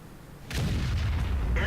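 A tank's main gun fires in a video game: one sudden, heavy boom with a long rumbling tail that stays loud to the end, with no talk over it.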